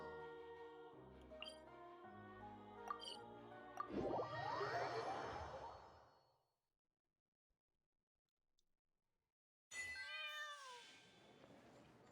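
Cats meowing in a video game, several distinct meows over game music and chimes, then a swelling whoosh, a stretch of near silence, and a final loud, close meow near the end.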